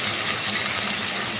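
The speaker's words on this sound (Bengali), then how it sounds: "এরপরে আমি দিচ্ছি হচ্ছে পেঁয়াজটা। এটা এখন একটু ফাটতে পারে।" Onion hits a hot pan while cooking a Bengali-style cauliflower roast and sizzles in a steady, close, bright hiss with fine crackling throughout.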